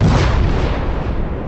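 A deep, booming explosion as a body bursts apart, a loud rumbling blast that fills the whole moment and slowly tails off.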